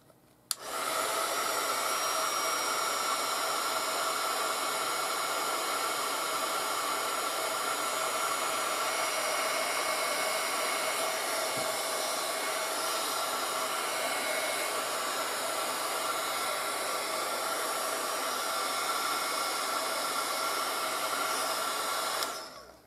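A hair dryer runs close and steady for about twenty seconds, drying a watercolor painting, a constant loud rushing blow with no talk over it before it switches off.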